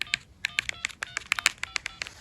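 An old LG Verizon flip phone beeps through a quick run of short, bright electronic tones, about a dozen evenly spaced keypress blips, close and fairly quiet.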